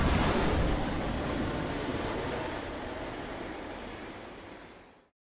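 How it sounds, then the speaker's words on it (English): An airplane taking off roars in a broad, loud rush with a thin high whine riding on top, steadily thinning and fading before cutting to silence. "T. Gray and MK, you are now cleared for flight school takeoff"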